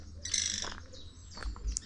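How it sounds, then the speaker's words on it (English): An American kestrel in a zoo enclosure gives a few short, high chirping calls, a bright burst early and fainter notes later, fairly close and alone without talk. "We've got a little American kestrel in here saying hello."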